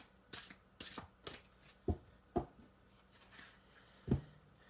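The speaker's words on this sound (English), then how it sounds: "I'll draw an oracle card to finish this up as a final message" Oracle cards being shuffled by hand, a faint series of quick papery riffles and soft taps spaced irregularly over several seconds, close and quiet with no talk.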